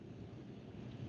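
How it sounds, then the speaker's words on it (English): Strong wind buffets and rumbles across an outdoor microphone near a railway, a steady dull roar with gusty low-end surges and no voices. "This wind is getting stronger"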